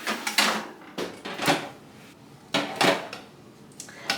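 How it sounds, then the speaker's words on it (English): Metal baking pans holding pumpkin bread batter clatter and clank as they are slid into a home oven, a few sharp knocks and scrapes spaced over a few seconds, close by. "now we're putting it in the oven"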